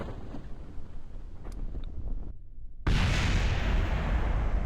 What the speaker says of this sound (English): That's just a bit of an explosion.